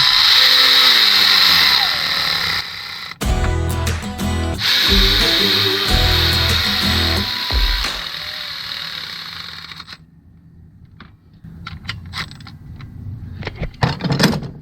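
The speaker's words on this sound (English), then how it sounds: "we're gonna get our electric ratchet. We're gonna run them down" Electric ratchet running down the timing chain bolts on a 2014 GMC Acadia 3.6L engine, several loud whirring bursts of the tool spinning close up, with clanks and handling noises between runs.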